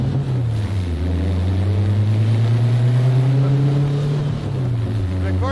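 A 1970 Volkswagen Beetle convertible drives along, its engine note dropping and rising as it shifts through the gears, loud and steady with wind rushing across the microphone.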